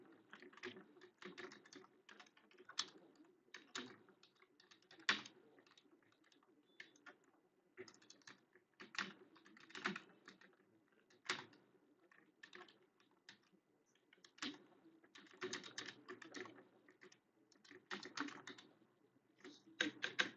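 Rapid, uneven clatter of a computer keyboard during a Hindi typing test, bursts of keystrokes with brief pauses, close and fairly quiet.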